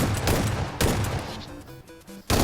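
Gunfire from the battle-royale game PUBG Mobile on the Miramar desert map: dense, loud bursts of automatic shots in rapid succession, broken by short gaps, with no talking.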